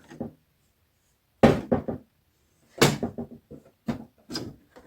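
A small cupboard on a lighted mirror is handled, giving a series of close, sharp wooden knocks and clicks in short clusters separated by silence.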